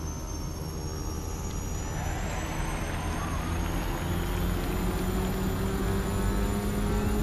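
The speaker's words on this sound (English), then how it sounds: "We'll just go ahead and do our rolling takeoff." A simulated Beechcraft King Air C90B turboprop in a flight-sim game spools up for a rolling takeoff, with a steady loud turbine whine, rising propeller drone and a low rumble, no talk.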